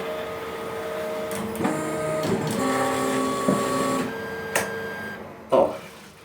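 Stepper motors of a 3D printer whine in steady tonal hums as the nozzle lowers toward the glass bed, close and moderately loud, with a few clicks and knocks near the end.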